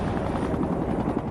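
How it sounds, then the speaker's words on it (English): Unmarked black helicopter flying out over the sea off the coast of Florida, a loud, steady rotor thump with a continuous engine roar, close and unbroken. "Traveling in unmarked black helicopters, they headed out 20 miles off the coast of Florida"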